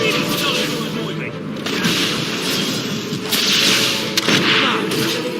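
Mortar fire in the video game Fable, heavy booms and thumps over a busy battle din, with several louder hits and a voice speaking throughout.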